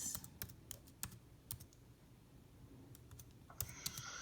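Quiet, scattered clicks of a computer keyboard as a breakout room name is typed in Zoom, several isolated keystrokes spread unevenly with soft gaps between them.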